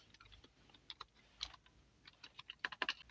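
Keys on a computer keyboard are tapped in short, uneven bursts, quiet and close, with brief pauses and then a quicker run of clicks near the end.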